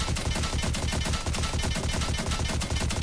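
Rapid automatic gunfire from a Fortnite match, a dense, steady stream of shots filling the whole stretch at constant loudness with no talking.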